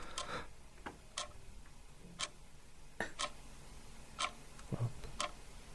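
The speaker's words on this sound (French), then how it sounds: "Son d'une horloge." A clock ticks at an even pace of about one tick per second, each tick sharp and distinct over low room noise, with a faint thump near the end.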